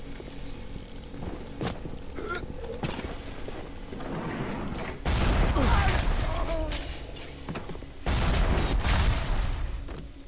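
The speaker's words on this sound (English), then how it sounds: "Yeah, so that's a rocket turret." A rocket turret fires in the underwater city of BioShock: a dense, continuous roar of mechanical rumble and creaking, with two heavy surges of noise like blasts, loud and close throughout.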